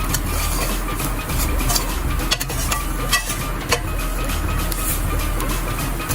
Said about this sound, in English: Then we're going to add our spice mixture. Stir it in.